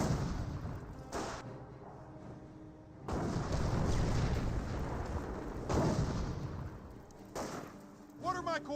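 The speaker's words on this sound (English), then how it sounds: "More butterfly bombs dropping on in." Butterfly bombs explode in the Company of Heroes battlefield, a string of heavy booming blasts and rumbling bursts, loud and close, with a voice talking over parts of the barrage.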